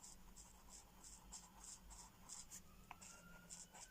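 Coloring pencil worked slowly back and forth across a page with sheets of paper underneath, a soft, steady scratchy rhythm of even strokes, close and faint, ending in a sharper tap.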